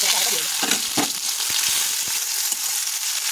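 Tomatoes and ginger sizzle and fry in hot oil in a wok along with cumin, dry chilli and bay leaves, a steady close crackle with a few stirring knocks and no talk.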